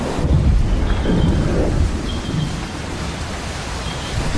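A thunderstorm over Wallacea with steady rain and a broad, low rumbling roar of thunder that swells and fades, with no voices present.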